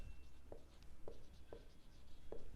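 Faint scratching of a pen on paper comes in four brief, regularly spaced strokes over a low, steady background hiss, with no one speaking.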